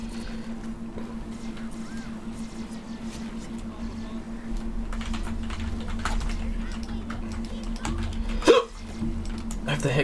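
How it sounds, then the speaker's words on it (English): A person hiccups repeatedly over continuous game noise and steady background hum, with brief sharp bursts and a louder spike near the end. "I have the hiccups again, no."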